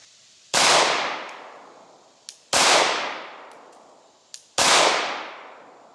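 Three loud pistol shots fired into bulletproof glass with regular ball ammunition, about two seconds apart, each a sharp crack followed by a ringing decay, with small metallic clicks between them.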